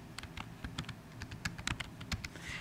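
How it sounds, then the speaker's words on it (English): Rapid, fairly close clicking of keys as an email address is typed on a computer keyboard, irregular bursts of taps with no talking. "type in my email"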